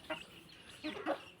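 Chickens cluck nearby in a few short, quiet bursts, a pair of soft calls separated by a brief pause.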